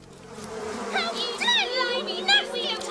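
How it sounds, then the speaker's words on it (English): Bumblebees buzz around their nest in a loud, wavering hum that rises and falls in pitch, with bright swooping tones. The buzzing is close and continuous over a faint background. "I do not like bumblebees."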